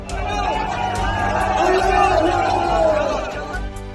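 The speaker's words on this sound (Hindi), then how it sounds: "पाकिस्तानी नागरिकों ने भारतीय हाई कमीशन के बाहर खड़े होकर भारत के खिलाफ नारेबाजी कर पाकिस्तान जिंदाबाद के नारे लगाए" Large protest crowd outside the Indian High Commission in Islamabad, a dense continuous roar of many voices shouting and chanting slogans, steady and loud throughout with no single voice standing out.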